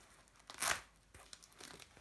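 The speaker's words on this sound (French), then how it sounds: "Là c'est un scratch." A Velcro fastener on a small folding snack bag rips open in one loud, harsh tearing burst near the microphone, followed by softer crinkling and scratchy rustles.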